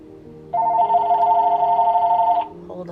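A telephone rings with a steady electronic tone lasting about two seconds, close and loud, with faint voices in the background.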